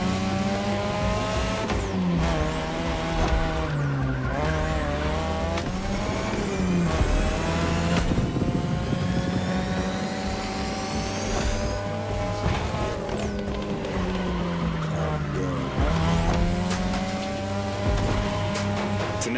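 A 3rd Gen 2002 Mazda RX-7 with a rotary engine races in a video game, loud and continuous, revving up and down through gear changes with tire squeal and no talk.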